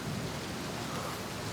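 Heavy thunderstorm rain in the VR video game Outer Wilds, a dense continuous roar of downpour with a low rumble beneath, steady and loud with no voices.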